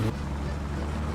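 A freshly repaired car engine idling after a rebuild in the game My Summer Car, a continuous low, rough, pulsing rumble running steadily and fairly loud throughout.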